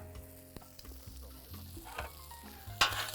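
Shrimp for tacos sizzle quietly in a pan while being stirred and moved around, with soft scraping knocks and a brighter burst of frying near the end, and no talking.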